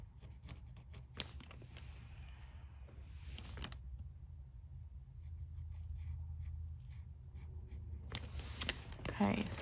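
The wooden back end of a paintbrush drags through wet brown paint to draw lines, giving two close, soft bursts of scratchy strokes separated by a quiet stretch of low room hum.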